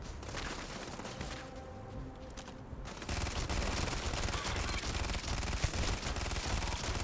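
Sustained automatic gunfire in Starfield, loud and dense, briefly thinning then resuming as a continuous rattling barrage of many rapid shots.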